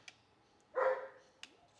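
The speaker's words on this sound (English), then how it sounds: "And the dogs are playing." Two dogs playing in a shed give one short bark and a couple of faint yips, heard at a distance against a quiet background.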